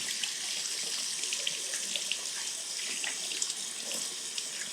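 Hands being washed under a running tap, a steady hissing stream of water with faint splashes throughout, close and continuous, no voices.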